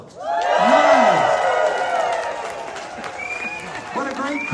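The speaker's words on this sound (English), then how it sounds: "What a great crowd." A crowd at a political rally cheers and applauds loudly, with whoops rising over the roar before it settles, and a voice speaks briefly near the end.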